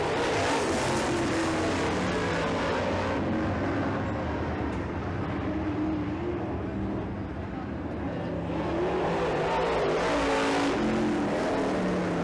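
Late model stock cars roar around a short oval dirt track during a heat race, their engines loud and continuous with passing swells as the pack sweeps by, while an announcer's voice carries over the noise.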